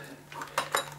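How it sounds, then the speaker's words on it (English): A Swiss Army knife is drawn out, making a few light metallic clicks and scrapes close by. The sounds come in a quick, brief cluster with no talking. "So, Swiss Army knife is coming out."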